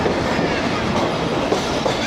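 The 12DN Hazara Express rolls into Khanpur Junction in Pakistan, with a steady, loud rumble of carriages and a continuous clickety-clack of wheels on rail joints, no voices.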